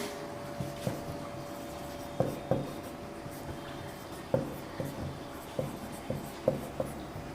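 Chalk or marker strokes on a classroom board during a lesson on classifying triangles by angle, heard as a string of short scratchy taps and rubs at an irregular rhythm, close and moderately faint, with no talking.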